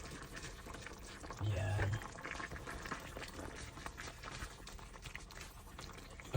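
Filipino chicken tinola soup bubbling in a pot with leftover broccoli and home-grown chili added, a soft steady simmering hiss heard under a person talking, with a brief clatter partway through.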